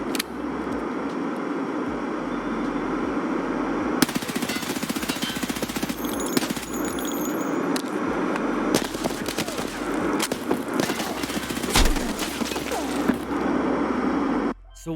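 Sustained automatic gunfire in the shooter Escape from Tarkov, a loud, dense stream of shots with sharper bursts toward the end, under a busy game soundscape.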